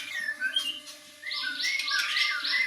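A caged songbird at an Indonesian bird-training session sings a string of bright, high chirps and warbling trills, close and clear over a faint low hum, with no talking.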